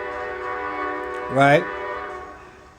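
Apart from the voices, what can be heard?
train passing near the speaker in Alaska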